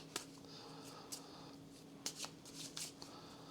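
A deck of playing cards for the Kingdom Legacy: Feudal Kingdoms card game is shuffled in several quick, faint riffling bursts, close by and quiet against a hushed background.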